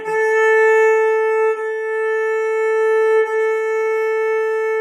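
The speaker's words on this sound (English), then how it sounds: "I'm going to play my A for you right now so you can hear it" A single sustained bowed open A string note rings steadily, with the bow changing direction twice, clear and close with no talking.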